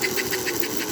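A large-motor model train locomotive, a dual-drive diesel type, runs steadily at half throttle, giving a continuous close whirring hum with a faint regular pulsing.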